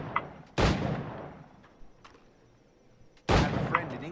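Firearm shots in the pirate-era game Assassin's Creed Black Flag, two loud booming blasts about three seconds apart, each decaying into a rumbling tail, with a few fainter pops in between.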